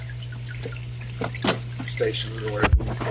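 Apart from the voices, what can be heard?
water dripping over bio balls in a filter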